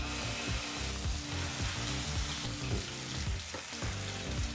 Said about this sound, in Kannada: ಆ ಒಂದು ಮಸಾಲ ಪೇಸ್ಟಲ್ಲಿ ಇರ್ತಕ್ಕಂಥ ಹಸಿ ವಾಸನೆ ಹೋಗೋವರೆಗೂ ಎಣ್ಣೆಯಲ್ಲಿ ಫ್ರೈ ಮಾಡ್ಕೋಬೇಕಾಗತ್ತೆ